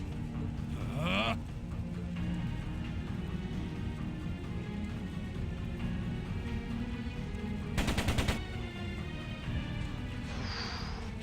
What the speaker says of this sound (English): It sounded like a machine gun.